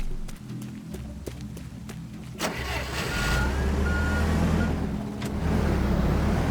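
A vehicle in Teardown, a game set at docks, gives a few reversing-style beeps over an idling engine, then the motor revs up into a steady, loud driving rumble.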